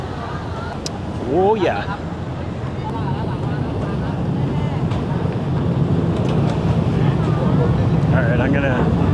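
Wind buffets the microphone while a hop-on hop-off tour boat churns along the Chao Phraya River, its engine rumbling steadily underneath; a few brief voices and a short exclamation sit over the noise.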